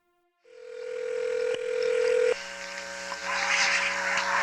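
A telephone call being placed: a loud, steady dial tone comes in and holds, then breaks off and gives way to a brighter, denser line tone with faint clicks, no voices present.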